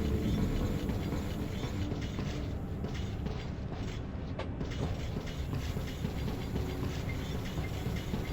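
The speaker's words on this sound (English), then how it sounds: "It's a train, for God's sake." A train runs steadily in the video game Metro 2033 Redux, a continuous rumbling, rattling drone with faint clacks and creaks throughout.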